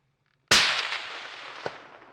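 A single sharp rifle shot at an elk during a hunt near Chama, New Mexico cracks loudly after a quiet start, then rolls away in a long fading echo with a faint second report.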